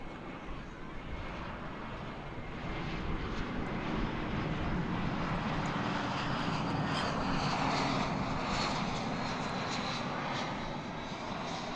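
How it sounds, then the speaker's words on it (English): Airbus A321 airliner arriving at DFW Airport, a broad, steady engine roar from a distance that swells gradually and holds at full strength. "this is a flight that's coming in from Reagan Airport in Washington, flight 1579, an Airbus A321"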